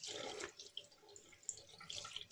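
Water running from a sink tap as a shaving brush is rinsed before applying Haslinger sage shave soap, a steady splashing hiss with small drips, close by and fairly quiet.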